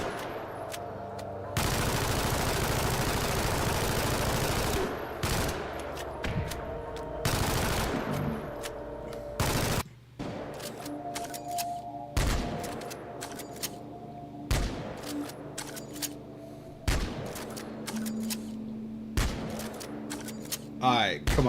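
Shotgun blasts from the video game Left 4 Dead 2 land as loud, separate bangs at irregular intervals, mixed with a long stretch of sustained gunfire and game noise, with a voice talking in between.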